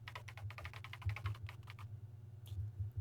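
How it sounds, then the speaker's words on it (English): Keyboard typing in the Danganronpa video game: quick bursts of soft key clicks in an irregular rhythm, with a pause and then a couple of last taps, quiet and close over a low hum. "she recovered just as fast and quickly began typing"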